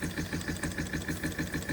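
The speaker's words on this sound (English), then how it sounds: "It's a really lovely engine, running nice, not leaking." A rare Empire B42 model steam engine runs on steam with a steady, even chuffing rhythm of about five beats per second, close and moderately loud, with no voices.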